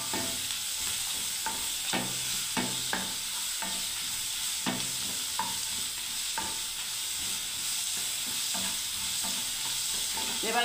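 Ginger paste fries in oil in a pan with a steady, close hiss, broken by sharp scraping knocks of a spoon stirring every second or so, continuous and without voices.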